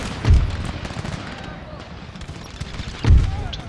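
Musket volley fire in the Empire Total War video game with Darthmod, in a battle as France. Two heavy booming volleys roughly three seconds apart rise over a dense, noisy battlefield din.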